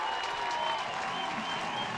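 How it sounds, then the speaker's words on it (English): Crowd at the Bob cheering and roaring for Maryland tying up a Big Ten college baseball game against Indiana, a dense, steady wall of applause and shouting that holds loud for the whole stretch. "It's a great crowd at the Bob, and they are going nuts."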